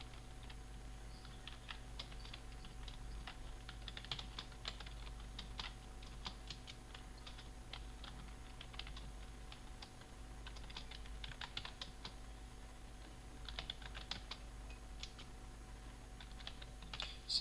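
Steady typing on a computer keyboard, quick irregular clicks of keys running for the whole stretch, close and fairly quiet, no talking.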